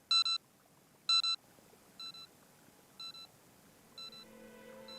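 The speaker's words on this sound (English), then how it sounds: "The digital timer was steadily ticking down the seconds." A digital bomb timer in an attaché case beeps in regular double-pulsed electronic chirps about once per second, counting down, the beeps loud at first then quieter, with faint background hum.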